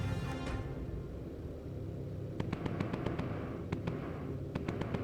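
A missile launched at an enemy fighter plane in the video game Bomber Crew, a rushing blast amid a dense, rumbling battle din, with several sharp cracks of gunfire following.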